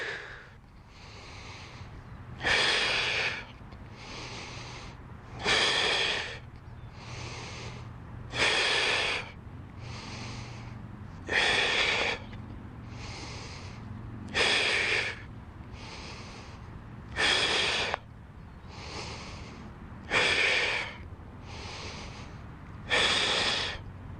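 Heavy breathing during a primal movement core strength workout: rhythmic loud exhales and snorts roughly every three seconds, close and clear, with softer inhales between them.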